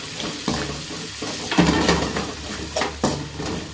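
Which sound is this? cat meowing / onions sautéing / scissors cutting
onions sautéing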